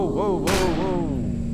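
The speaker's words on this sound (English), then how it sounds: "There's a couple of turrets here, huh?" Turrets fire in the space survival game Empyrion Galactic Survival, with one sharp, booming shot cutting through while a voice carries wavering exclamations throughout.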